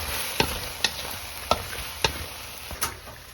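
Diced potatoes stir-fried in a pan for a home dinner: a steady sizzle runs throughout, broken by about five sharp spatula scrapes and clinks at uneven intervals, close and moderately loud, with no talking.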